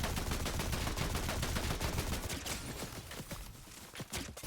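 Sustained gunfire in a Fortnite match: a loud, continuous rattle of rapid shots that thins slightly toward the end into separate cracks, with no talking over it.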